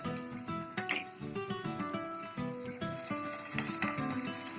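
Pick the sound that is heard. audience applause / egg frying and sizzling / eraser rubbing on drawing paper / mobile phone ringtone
egg frying and sizzling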